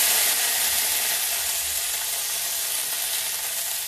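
Washed fenugreek (methi) leaves frying in hot oil, a loud, steady, close sizzling hiss that continues evenly without pause.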